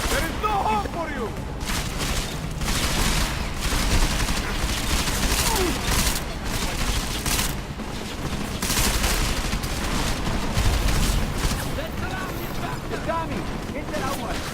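Dense, continuous gunfire from the video game Deus Ex: Mankind Divided, with rapid automatic bursts and booms filling the whole stretch at high loudness, while voices shout over the battle.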